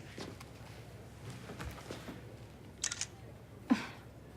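A phone or camera shutter snaps for a selfie in a quiet indoor room, a couple of quick clicks near the three-second mark and another sharp click shortly after, over low background hum.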